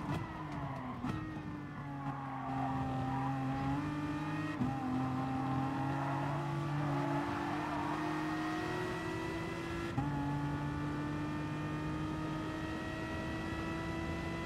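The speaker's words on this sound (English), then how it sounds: "I was pushing the engine so hard here." A race car engine howls at high revs around Monza in a racing video game, a steady strained drone with rising pitch and shifts, sustained and close without pause.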